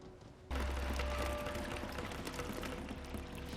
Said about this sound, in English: just the water streaming down the wall